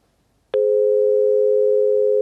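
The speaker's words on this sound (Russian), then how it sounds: "Ну, не получается дозвониться, может быть, что-то у нас с телефонной связи" A telephone busy tone on a call that failed to connect during a live talk-show phone-in sounds as a loud, steady electronic tone that begins abruptly after a brief silence and holds unbroken to the end, with no voices.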